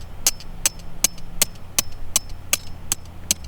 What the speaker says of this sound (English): I'm going to hammer